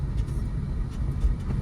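A small car used for driving lessons rumbles steadily at low speed on a narrow street, its engine a low continuous drone, close and even, with no clear change at the shift into second gear.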